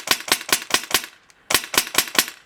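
An airsoft gun fed from a drum magazine fires BBs on semi-auto: a string of about six sharp, snappy shots, a short pause, then four or five more, close and crisp.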